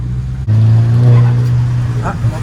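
A steady engine note from a stage 3 turbocharged VW Golf 5 GTI holds throughout after an abrupt cut, with a short dump valve blow-off hiss and people talking over the engine.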